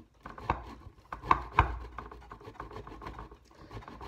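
Food rubbed against a three-sided hand grater for pizza topping, a few sharp rasping strokes then lighter scraping, close and fairly quiet with no talk.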